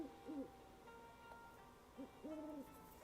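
An owl pet hoots softly in the video game Star Stable Online, a few brief low calls spaced apart over a faint steady hum of background game ambience.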